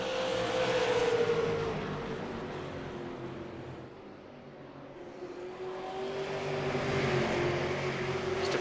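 Super late model race cars roar around a dirt oval, engines droning steadily with a rising and falling pitch as cars run side by side down the back straightaway into a turn, loud and continuous with no talk.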